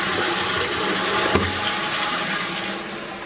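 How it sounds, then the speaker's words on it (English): A toilet flushes in a steady broadband rush of water, with a brief knock partway through, then the cistern keeps refilling in a continuous hiss that fades slightly toward the end. "So I'll give it a flush."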